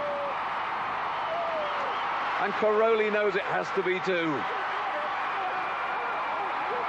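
American crowd at the gymnastics world championships cheering and applauding steadily in the background beneath a commentator's voice.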